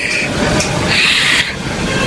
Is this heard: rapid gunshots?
no